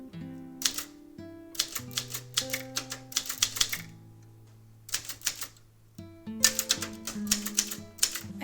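Typewriter keys striking in quick bursts with pauses between runs, crisp clacks sounding close over soft background music.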